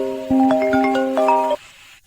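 A mobile phone ringtone plays a short bright electronic melody of stacked tones for just over a second, then cuts off abruptly, with a quiet background and no talking.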